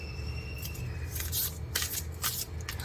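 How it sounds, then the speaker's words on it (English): Tarot cards are shuffled by hand in a run of soft papery riffles and flicks, close and moderately loud, with no voices over them. "I'm going to pull some tarot cards for that"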